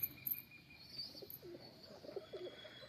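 Domestic pigeons coo softly in a short series of low, murmuring calls, fairly faint, with a few higher chirps and light background noise and no voices.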